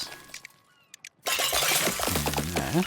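Glass breaking in a chain reaction in the video game Trash Goblin: a few small clinks, then a loud, sustained shatter with cascading fragments, a tonal musical sound rising over it near the end.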